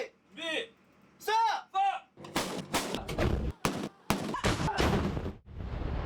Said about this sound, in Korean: K55A1과 K105A1이 일제히 포탄을 발사하고